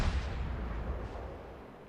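In World of Warships, the Yubari cruiser's guns fire one deep, booming salvo, which rolls away into a fading rumble.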